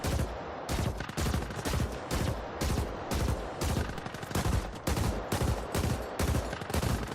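Rapid, loud bursts of gunfire hammer at a turret in The Ascent, a dense run of repeated shots with hardly a break, close and alone.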